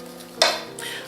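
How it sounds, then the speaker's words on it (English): Eggs being stirred one at a time into a Southern-style pecan pie filling, with a sharp utensil scrape and a sloshing swirl of thick batter, followed by a second, softer stirring pass, close and alone. "we're gonna add the eggs one at a time so that we make sure they're good and mixed in"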